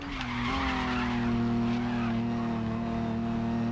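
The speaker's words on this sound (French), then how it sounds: "Un petit coup de frein ici." A race car in GRID Legends braking hard, a sustained tire squeal and skid layered over a steady engine drone lasting a few seconds.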